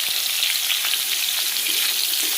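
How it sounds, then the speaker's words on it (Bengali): Tomato, garlic and green chili frying in a pan: a dense, constant hissing sizzle with small crackling pops, close and steady throughout, with no voices. "হালকা করে ভেজে নিব"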